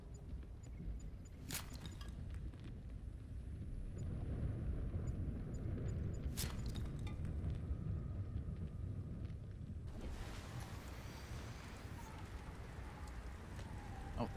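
Thunderstorm in the game Subnautica: Below Zero, a steady low rumbling wash with sharp crackling thunder bursts near the start and middle, then a shift in the storm's texture near the end.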